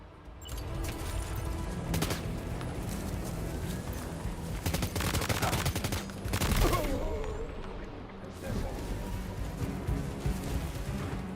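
Sustained automatic gunfire in Death Stranding 2 rattles in dense, loud bursts over a constant rumbling game background, with heavier volleys and brief pauses throughout.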